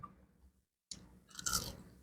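Crispy fried chicken in sauce crunches as it is chewed close up, with a brief silent gap followed by a burst of crackly bites and mouth sounds.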